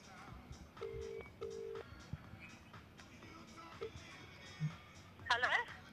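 Outgoing telephone call during a cricket live stream, with keypad dialing tones followed by a ringing tone, under a voice and faint background sounds.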